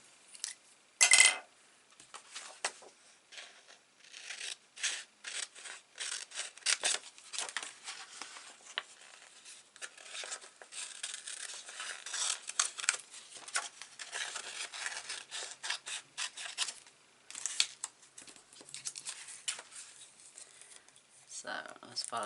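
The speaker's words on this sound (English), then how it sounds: "Maybe I'll fussy cut one of those little trees out." Scissors fussy cut around a small stamped tree for a handmade card, making repeated soft, close snips and paper rustles in an irregular rhythm while a person talks.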